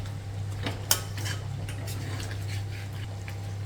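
Chicken curry with coconut pieces and curry leaves stirred in a pan, a few scattered utensil scrapes and clinks over a steady low hum, close by and fairly quiet.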